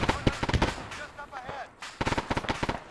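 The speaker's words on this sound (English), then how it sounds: "I'm gonna call in some precision fire right here on this position" Rapid bursts of precision artillery fire in the Arma 3 combat game, a dense volley of sharp impacts in two clusters separated by a brief lull, loud and close.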